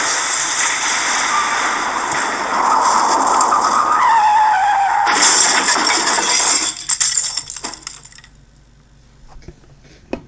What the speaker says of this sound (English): the conductor braked them to a stop